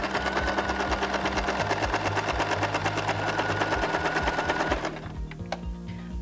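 A sewing machine stitches fabric for a pillowcase, running steadily and loudly with a fast, even mechanical patter for about five seconds before slowing and stopping with a few final clicks.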